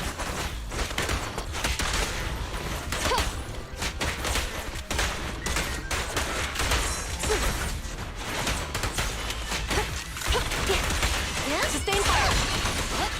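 Sustained gunfire during an ambush in a video game. Dense rapid shots and bursts continue throughout over a rumbling battle background, with voices occasionally calling out.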